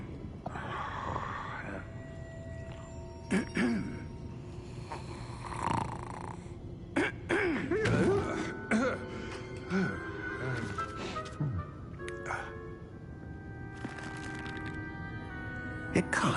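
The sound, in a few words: character snoring in Hogwarts Legacy video game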